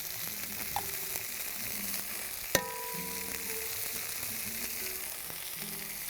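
Butter sizzles steadily in a hot pan after mushrooms for a chicken mushroom dish, a constant crackling hiss with a brief sharp clink partway through, no voices.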